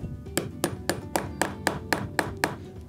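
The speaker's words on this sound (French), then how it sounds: "Alors, ça, c'est le marteau de tapissier, le réel. Ça s'appelle un ramponneau. Du coup, on prend le clou et il faut le planter." A ramponneau, the upholsterer's hammer, drives a nail into wood with about nine sharp, evenly spaced taps. Each knock rings briefly and sits close and clear over a quiet room, with no talk.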